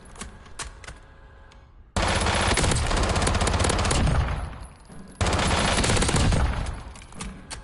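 Long, loud bursts of automatic fire from Modern Warfare guns in Call of Duty: Warzone, two sustained rapid volleys separated by a brief lull, with quieter single shots before them.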